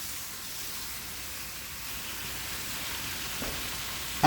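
Chicken sizzling in a pan for chicken and broccoli alfredo, a steady soft hiss of frying heard close and fairly quiet, continuous throughout with a small clink at the end.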